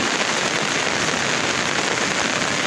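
Heavy rain pours down in a dense, steady hiss that fills the whole stretch without pause, loud and close, with no voices over it.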